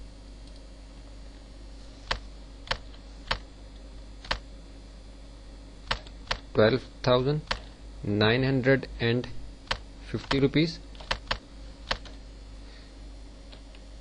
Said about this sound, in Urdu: تو اس کے جو ٹیکسٹ ہے اس کو ہم یہاں ٹائپ کر لیتے ہیں